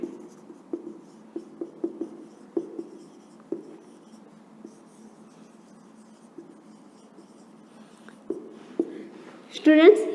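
Pen scratching out short notes by hand on paper, in irregular bursts of quiet strokes with pauses between, close and alone until a brief loud tone near the end.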